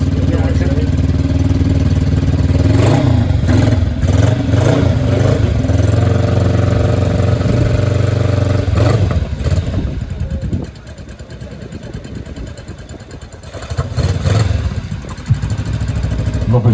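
A motorcycle engine idles and revs steadily at close range, a fairly quiet bike at a motorcycle start-up show, with voices talking over it as the throttle rises and settles.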